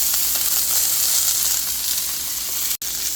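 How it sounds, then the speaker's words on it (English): Asparagus sautéing in olive oil in a pan gives a steady, close sizzle and hiss throughout, with one very brief dropout near the end. "we've been cooking these asparagus in the olive oil for a few minutes"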